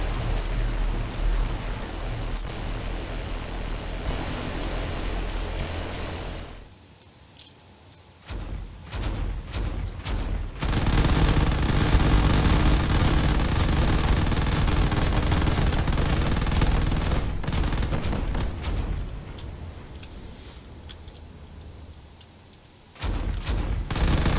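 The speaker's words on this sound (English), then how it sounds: "These weapons are doing their best to try to take down that carrier" Video game Drone Wars battle with weapons firing at a carrier: sustained rapid automatic gunfire and explosive bursts, loud and continuous with brief pauses and sudden restarts, no voices.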